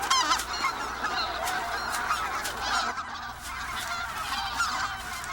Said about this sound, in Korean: 시베리아에서 번식을 마치고 월동을 위해 내려오는 기러기